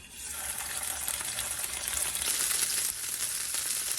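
Steak searing in oil in a pan gives a steady, bright, hissing sizzle that runs unbroken for the whole stretch, close and moderately loud.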